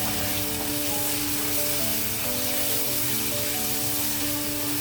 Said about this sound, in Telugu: ఇదిగో చికెన్ కొంచెం వేడెక్కింది కాబట్టి అల్లం వెల్లుల్లి పేస్ట్ వేసేస్తున్నాను